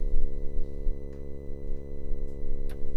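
A steady, buzzy synth drone from an Intellijel Multigrain module holds with a rich stack of harmonics and a slight wavering pulse, with a couple of faint clicks on top.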